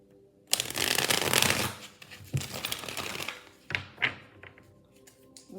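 A deck of tarot cards being shuffled up close: a long riffling burst, then several shorter shuffles and taps, with no speech.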